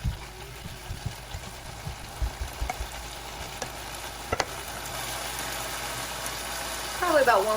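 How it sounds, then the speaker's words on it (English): Meat searing in a pan for a Chicano-style recipe gives a continuous sizzle under a few knocks and utensil clatters early on, with a brief squeal near the end. "I'm just letting it cook, get a nice under sear."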